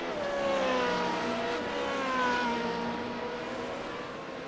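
Formula Renault 3.5 racing car in a racing game, cornering at the Hungaroring with a loud, sustained high-pitched engine whine that rises and falls through the turn, close and continuous with no talk.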